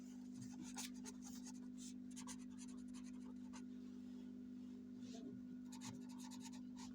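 Pen scratching on paper while writing out an accounting entry, quick irregular strokes and scrapes at close range, faint over a steady low hum.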